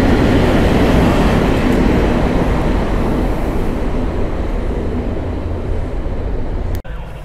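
Polish EU07 electric locomotive hauling a cargo train past a station platform at Wrocław Nadodrze, a loud, steady rolling rumble close by that fills the whole stretch, with no talking.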